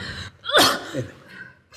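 A single sharp sneeze from a woman with a heavy cold, a quick in-breath rising into a loud burst followed by a softer trailing exhale, close and clear against a quiet room.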